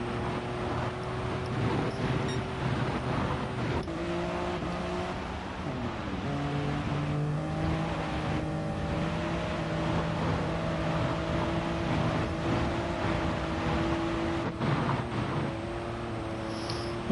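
A Toyota race car engine in Gran Turismo 7 drones steadily, its pitch climbing and then dropping at several gear changes, loud and continuous with no voices.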